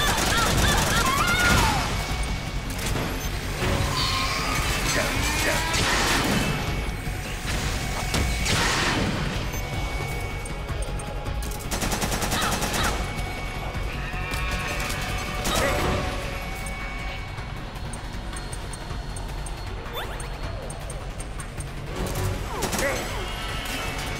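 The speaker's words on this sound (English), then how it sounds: "Who the hell is shooting me right now?" Dense, sustained gunfire and crashing impacts from a Metal Gear Solid 4 firefight, loud throughout with rapid bursts, booms and mechanical clatter, while someone speaks at times over the battle.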